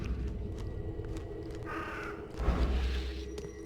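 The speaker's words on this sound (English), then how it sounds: "was that bird?" A bird caws once near the middle of an eerie, rumbling game soundscape in The Sinking City, set among ruins in a flooded town, with a low ambient drone throughout.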